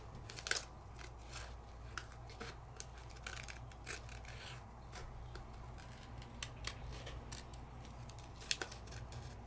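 Scissors cut out black peel-off stickers, close up and quiet: a series of crisp snips and light paper rustles at an irregular pace, with no voices.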